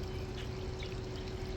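Water trickling steadily from a small fountain in a backyard mini pond with rocks, a soft continuous pouring splash with a faint electric hum underneath.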